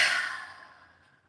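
A single soft exhale during a guided breathing exercise, a breathy sigh that starts strongest and fades away over about a second, close and quiet.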